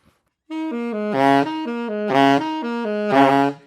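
A saxophone repeats a low note pattern three times, each overblown low B flat bursting into a harsh, buzzy squawk, solo and close.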